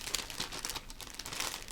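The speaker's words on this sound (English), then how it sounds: "I love these little plastic bags like this because they can be reusable." A small reusable plastic bag is crinkled and handled close by, giving soft, irregular crackling rustles that continue steadily at a low level, with no voices.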